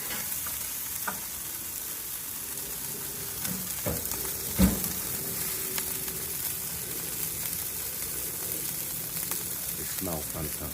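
Wagyu burgers sizzle steadily on a charcoal grill, a continuous hissing fry with occasional sharp pops and crackles, close and fairly loud throughout with no talking.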